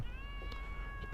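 A cat gives a faint, drawn-out meow on a street, a thin steady tone held for over a second over low background rumble.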